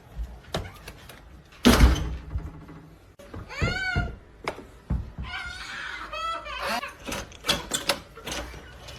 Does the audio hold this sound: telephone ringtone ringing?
no